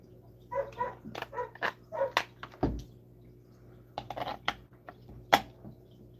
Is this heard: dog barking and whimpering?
yes